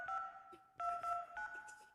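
Telephone keypad tones sound in a horror video game set in a diner, several short two-tone beeps pressed in quick succession, clear and fairly quiet.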